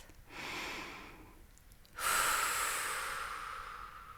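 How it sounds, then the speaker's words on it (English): A person draws a slow, deep breath in, then lets out a longer, stronger airy exhale, close and clear in a quiet room. "Take a breath."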